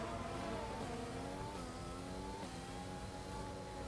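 F1 race car engines in F1 2020, a continuous whining, revving drone as cars pass, pitch rising and dipping with shifts, steady and fairly faint with no talk.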